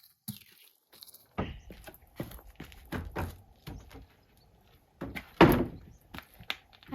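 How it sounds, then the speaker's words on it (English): Old wooden brocante doors being handled and shifted, giving a series of hollow thunks and knocks with scrapes between them, fairly close and irregular, with one louder bang near the end. "I'm still sifting through all the doors for abandoned projects"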